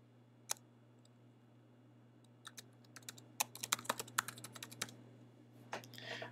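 Typing on a computer keyboard during a software tutorial, a lone faint click first, then a quick run of crisp keystrokes, close and quiet over a soft electrical hum.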